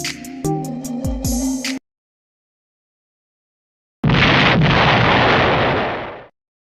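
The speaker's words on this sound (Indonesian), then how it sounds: "Bom atom yang dijatuhkan sekutu di Hiroshima pada tanggal 6 Agustus 1945" An atomic bomb explosion over Hiroshima, rendered as a few sharp bursts and a rumbling crash, then silence, followed by a loud, sudden roaring blast that holds and slowly fades.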